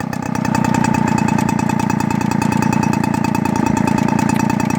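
A Peugeot 105 D moped's small engine runs at a loud, steady idle close by, with a rapid, even chugging beat that holds for several seconds without a break.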